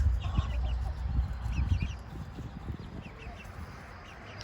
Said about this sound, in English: Now let's go look at some baby chicks.